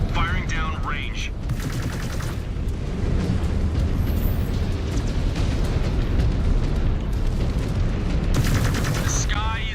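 Mech weapons in MechWarrior: Wolves of Tukayyid fire down range in a dense, continuous barrage of booming shots and blasts, loud throughout, with bursts of high whining energy-weapon tones layered over it.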